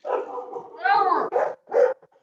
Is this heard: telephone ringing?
no